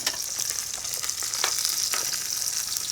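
Clams steam and sizzle in a hot pan as they are tossed with a spoon, a steady bright hiss with light scraping and stirring taps up close, no voices.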